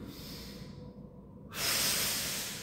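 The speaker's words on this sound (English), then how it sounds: "Inhale. Exhale." Breathing during a core workout: a long, steady exhale through the mouth, then a brief pause and a sharp, loud breath drawn in close to the microphone.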